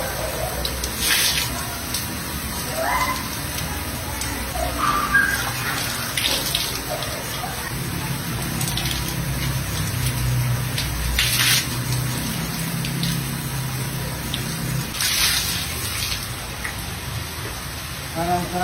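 Steady running water from a bath, a continuous splashing hiss with occasional sharper splashes and shifts in flow, close by, with faint voices underneath at times.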